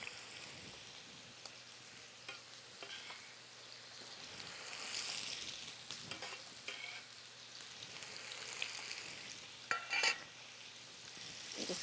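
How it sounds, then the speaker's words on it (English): Squash sizzling and frying in about a tablespoon of olive oil in a preheated pan, a steady crackling hiss with occasional stirring clatter and louder spatters, heard alone without talk. "We want to add about a tablespoon or so of olive oil, and we want to add our squash"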